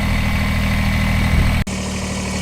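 A Kubota BX sub-compact tractor engine idles close by with a steady low throb and a faint rhythmic knock, cut briefly by a sharp click partway through before the idle carries on.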